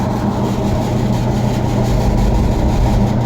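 Restored Champ honey extractor, formerly belt-driven with a leather belt, spinning with a loud steady low motor hum and drone that holds constant without pauses.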